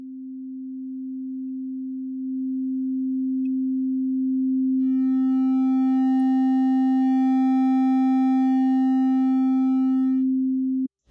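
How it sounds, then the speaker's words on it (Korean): Steady pure sine tone passed through a wave shaper, its volume slowly rising so harmonics bloom partway through and the tone grows richer and brighter before cutting off abruptly. No other sound. "사인파의 볼륨을 천천히 올린 동안 파형의 변화를 관찰해보세요."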